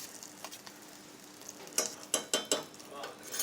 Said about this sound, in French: dans un sautoir qui est chaud, comme ça instantanément, il va se mettre à mousser